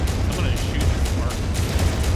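Weapons fire at a Spark mech in the MechWarrior 5 video game as a rapid run of dull, rumbling bursts thudding over a continuous heavy low-end roar.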